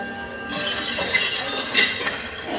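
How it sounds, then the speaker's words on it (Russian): A crystal coffin struck hard and shattering, a burst of bright glass breakage followed by tinkling, clinking shards scattering over about two seconds, close and fairly loud, with no speech. "Он ударился со всей силой, гроб разбился."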